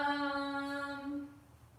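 A pet cat lets out one drawn-out, tonal meow that slowly fades, heard close and fairly quiet.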